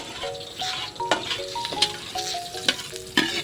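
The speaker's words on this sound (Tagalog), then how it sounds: "Ito na nga ako nagluto sa labas at mas maganda dito at luto sa kahoy." Food cooks outdoors over a damp wood fire at night in a Bicol village, with a metal utensil clinking and scraping against a pot in irregular strokes over a soft background sizzle; nobody talks.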